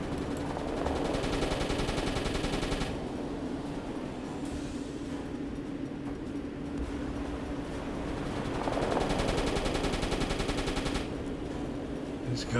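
Rapid gunfire from an enemy ship during a submarine combat patrol in UBoat, a dense rattling burst under steady engine-like rumble that swells in two long stretches.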